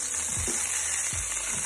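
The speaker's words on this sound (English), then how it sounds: "So our steak has been in the frying pan for quite a while now" A ribeye steak sizzles in a frying pan, a steady close hiss of frying with a few soft low clanks or movements in the pan; no one speaks.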